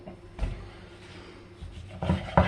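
A knife trims a rolled capocollo wrapped in pancetta, giving a few short scraping strokes that cluster toward the end, close and fairly soft.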